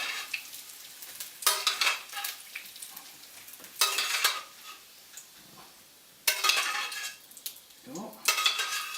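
Pasilla chilies frying in hot oil in a pan for tortilla soup, giving bursts of crackling sizzle that swell and fade several times, with occasional stirring and the clink of utensils against the pan.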